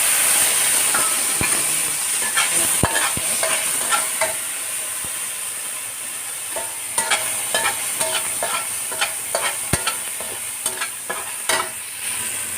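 Fish with black beans, garlic and onions being stirred and fried in a pan, with a continuous sizzle and hiss broken by sharp scraping clicks and knocks of the utensil at irregular intervals.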